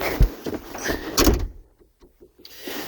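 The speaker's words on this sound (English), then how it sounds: "I didn't close the door properly" A door swung shut inside a room during furniture assembly, heard as a dull, fairly close thump followed by a rattle and a few faint knocks as it settles, with no talk.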